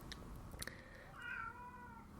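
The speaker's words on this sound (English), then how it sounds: "And the cat's upset now." An upset house cat gives a couple of drawn-out, whining meows at moderate distance, faint under a steady background hum.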